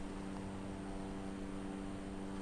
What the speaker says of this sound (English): Our plane's going full beans at the moment